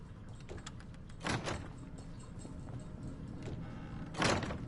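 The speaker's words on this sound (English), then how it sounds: "I close doors because I am not Nate." A door closes in Fallout 4 with two soft, muffled thuds and a short scrape, a few seconds apart, over a steady low background hum.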